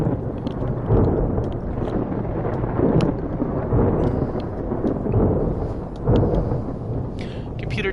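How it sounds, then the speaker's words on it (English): A thunderstorm rages outside in the video game Escape from Pertam, with steady rain hiss and wind-like rumble and several low thunder swells rolling in repeatedly, fairly faint and distant. "Man, that is quite a storm going on out there."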